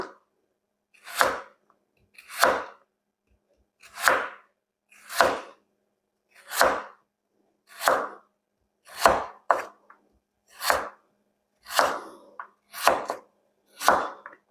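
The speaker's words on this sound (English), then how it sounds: "I'm going to give myself flat side to the carrot so that it doesn't roll around while I'm cutting." A knife chops through carrots on a cutting board in a steady, evenly spaced rhythm of about a dozen crisp, close strokes, with no voices between them.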